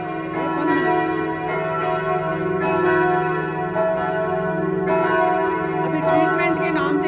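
Bells ring continuously, layered tones sustaining and overlapping in a steady peal, loud and close, with fresh strikes every second or so and no talking over them.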